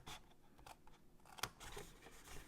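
Scissors snip through scored paper while a shadow box gift box is assembled, giving a quiet, close series of soft cuts with one sharp click partway through.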